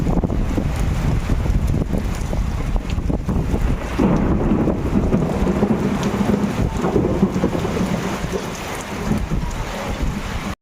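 Heavy rain pours steadily outside a home with rumbles of thunder rolling underneath, a dense, continuous wash of noise with gusty wind buffeting the microphone throughout.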